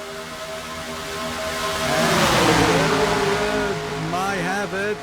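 Race car engines in a Cup Series sim racing league game at Atlanta drone and rev, swelling loudly as cars sweep past, then shifting pitch, with a commentator talking over them.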